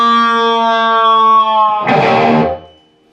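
An electric guitar bends the third string at the second fret with a slow release, played through echo delay with a few quickly fading repeats and reverb. A ringing sustained note gives way to a brief scratchy burst, then decays.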